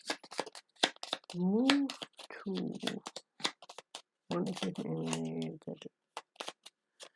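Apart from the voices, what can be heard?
shuffling playing cards for Gloomhaven board game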